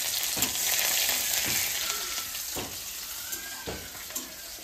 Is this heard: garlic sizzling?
yes